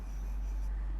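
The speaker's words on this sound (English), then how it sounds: "Let us write here" Marker or chalk writing numbers on a classroom board, a short soft scratchy stroke over a steady low hum, no voice.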